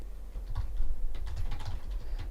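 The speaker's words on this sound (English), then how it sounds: "I'm typing, sorry" Typing on a computer keyboard, with a scatter of quick, close key clicks and taps in an uneven rhythm and a low background hum under them.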